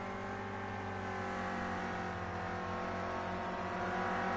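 A Renault Clio Cup race car drives on track at the start of qualifying on cold rear tyres, its engine droning steadily with a layered tonal hum and gradually rising revs, heard close and continuous without any talk.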